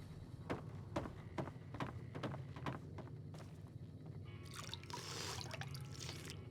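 Water dripping at a spring in the video game Fallout, a series of distinct drops in a slow, irregular rhythm over a low ambient hum, followed by a brief wash of trickling noise.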